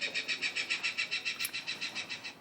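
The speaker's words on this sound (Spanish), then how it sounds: "Y aquí conectaríamos el sonido del depredador." A recorded predator bird call plays from a pigeon-deterrent device, a rapid run of about fifteen evenly spaced shrill chirps that fades slightly toward the end.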